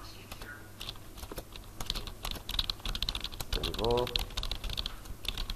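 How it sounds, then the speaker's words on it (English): Rapid keystrokes tapped on a computer keyboard while entering text in InDesign, a dense run of close, crisp clicks, with a short spoken word partway through. "I'll just type in a bit more and try and go to the edge of this frame"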